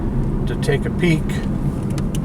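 A car rolls along a road in the small desert town of Goldfield, Nevada, its engine a low steady hum under a man's close, continuous talking.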